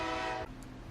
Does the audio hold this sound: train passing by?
yes